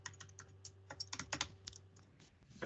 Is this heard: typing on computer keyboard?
yes